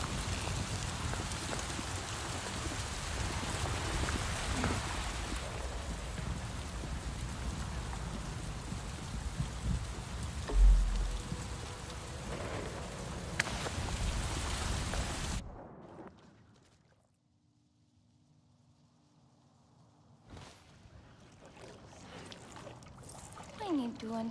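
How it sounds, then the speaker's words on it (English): A heavy rainstorm in a video game's jungle world, a dense, loud downpour that suddenly cuts out into near silence before ambience slowly returns. "Why hunt in a storm?"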